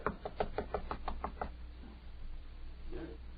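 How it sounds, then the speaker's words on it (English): A series of about eight quick, evenly spaced knocks raps on a door, then stops, leaving a quiet room tone in an old radio drama. "Don't want to knock too loud, but I've still got to wake him up."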